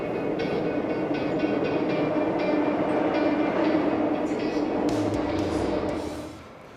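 A subway train runs between stations, a steady, loud rolling rumble and rattle of the rail cars that holds for several seconds and then fades away at the end.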